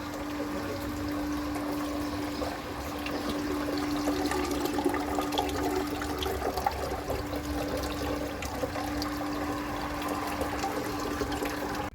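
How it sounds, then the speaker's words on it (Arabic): Steady rushing and trickling of water as a pump pushes water through hidden pipes into a fountain, a continuous even flow with a constant mechanical hum beneath it. "هاي المضخة تشفط ماي او تدخل ماي من برا بهالطريقة"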